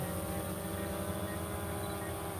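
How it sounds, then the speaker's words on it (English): A drone hovers nearby with a steady, loud, droning whine and hum of its rotors, unbroken throughout, with no talk. "land the drone here because it's a little bit loud"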